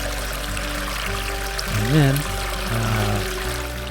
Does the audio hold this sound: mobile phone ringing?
no